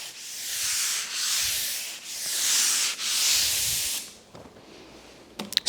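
Rhythmic power sanding on the painted surface of a desk, four long hissing abrasive strokes with brief dips between, then stopping into quieter handling clicks and knocks.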